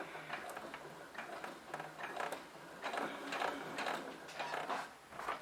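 A domestic sewing machine set to a 3.5 stitch length runs a seam on a small fabric pouch, buzzing steadily in several bursts with short pauses between runs.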